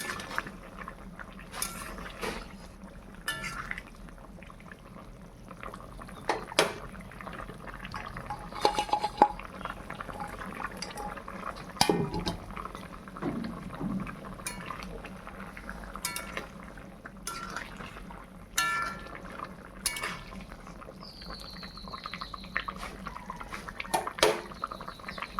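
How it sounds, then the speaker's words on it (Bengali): Rohu fish curry broth with semolina and taro bubbling in a pot, a steady low simmer of boiling liquid with occasional clinks and scrapes of a utensil against the pot, no talking. "ঝোলটা খুব সুন্দরভাবে ফুটে উঠেছে"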